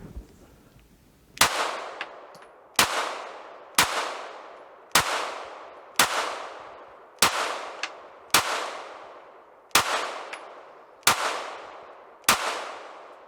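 Ten sharp gunshots are fired at a shooting range target in a slow, even rhythm about a second apart. Each shot is a loud crack that rings out and fades.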